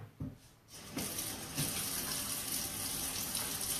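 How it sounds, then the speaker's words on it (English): Tap water runs into a sink while hands are washed, a soft trickle that swells into a steady close gush and continues without a break. "Wash my hands."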